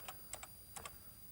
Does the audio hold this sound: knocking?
no